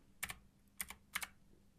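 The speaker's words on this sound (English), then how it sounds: "I'm gonna use my arrow keys on my keyboard" Arrow keys on a computer keyboard are tapped three times, each a sharp double click, close up in a quiet room.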